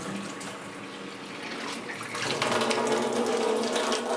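Water runs steadily down a sink drain with a continuous splashing rush that grows fuller and louder partway through.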